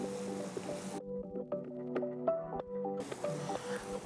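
Onions are stirred with a pinch of salt in a kadai, giving close, moist squishing and scraping strokes over a steady background hiss. No one speaks.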